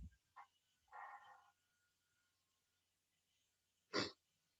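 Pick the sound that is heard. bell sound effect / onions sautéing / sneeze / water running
sneeze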